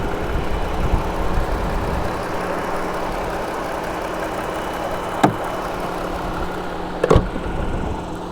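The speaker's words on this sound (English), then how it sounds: "So this motor specifically idles super quiet, makes, you know, a healthy amount of power." A 2019 Jeep Wrangler JL Unlimited Sport engine idles quietly with a steady, low, even hum, broken by two brief clicks near the end.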